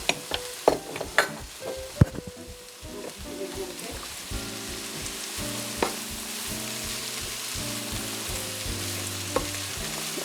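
Swiss chard and spinach leaves cooking down in a pan, a soft steady sizzle running throughout with a few sharp knocks and rustles near the start, and a low background hum beneath.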